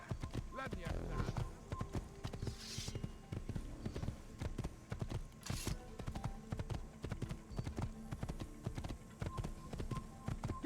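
Rapid galloping hoofbeats of a horse ridden in Assassin's Creed, a dense rhythmic clatter running throughout alongside game noise, with voices speaking over it.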